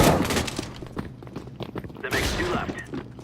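Nova pump-action shotgun fired in a video game: loud, sharp blasts spaced across a few seconds, mixed with game noise while a person talks over them.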